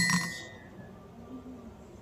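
A marble dropped into a glass gives a bright, close clink at the start that rings briefly and fades into a quiet room.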